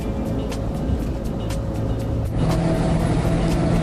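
A 1959 Alfa Romeo Giulietta SV drives along a bumpy Italian motorway, its steady engine drone and road rumble continuous and close, with a slight rise in intensity partway through.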